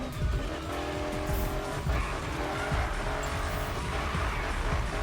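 A race car drifts in the F1 2016 video game, its tires squealing continuously over a loud, constant engine roar, close and intense throughout.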